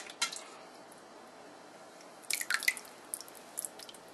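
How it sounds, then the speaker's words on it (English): Whey dripping from feta cheese curds wrapped in cheesecloth into a bowl, a faint scattering of soft drips and small wet squishes, quiet with a few clustered splashes near the end. "what I do is I kind of pick it up and make sure that it's draining into the bowl"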